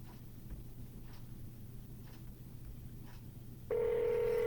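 Telephone being dialed for a real estate cold call: a quiet room hum with faint taps, then a loud steady tone starting near the end and holding to the close.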